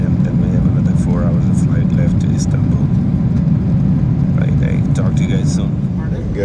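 Steady low roar of a Turkish Airlines Boeing 777-300ER cabin in cruise over the Atlantic, a constant dense rumble filling the space while a person talks over it.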